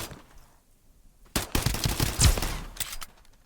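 Gunfire in the video game Escape from Duckov: after a quiet moment, a loud rapid burst of shots rattles for about two seconds, then trails off.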